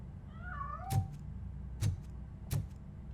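A cat in the video game Robocop: Rogue City gives one short rising meow, then three sharp thumps follow at uneven intervals over a low, steady background hum.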